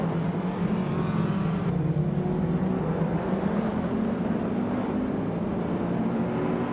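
Ferrari 308 GTS and other race cars in a racing video game: a steady, loud engine drone holds throughout with slowly shifting pitch, no one speaking.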